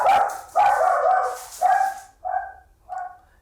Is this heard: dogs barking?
yes